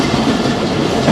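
A Pakistan Railways train pulls out of Rawalpindi station toward Chaklala, a steady close rumble of wheels and carriages with rhythmic clickety-clack running throughout, no voices.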